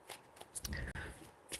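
A deck of tarot cards being shuffled in a quiet room, with soft riffling bursts and slaps repeating over the moment.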